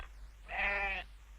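A single goat bleat, a wavering nasal call lasting about half a second, rises clearly out of a quiet room hum and then stops, with no one speaking.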